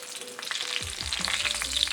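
Breaded chicken Milanese cutlets fry in hot canola or vegetable oil, a steady, bright sizzle with bubbling crackle that swells as a piece goes into the pan, close and continuous with no talking.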